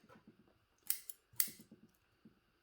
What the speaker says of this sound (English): Probably not great for your scissors to be in here cutting away